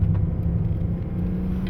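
Race car at full throttle on the Virginia International Raceway, a steady loud engine roar with low rumble heard from inside the car, holding pitch without shifts.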